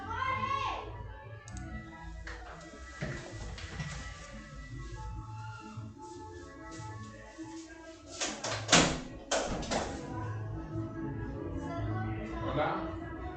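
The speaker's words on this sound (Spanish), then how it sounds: "creo que llaman a la puerta" Someone knocks at a home door, with a cluster of sharp raps partway through and quieter clicks and room noise around them. Voices can be heard in the background.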